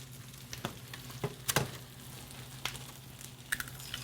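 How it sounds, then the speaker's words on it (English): Eggs frying over medium in garlic butter in a pan, a steady close sizzle with scattered pops and crackles plus a few brief clicks of utensils, no talking. "Frying eggs in garlic butter."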